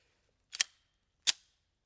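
Two sharp practice shots from a Flux Raider at a target, each a quick crisp crack about three-quarters of a second apart, close and isolated in near silence.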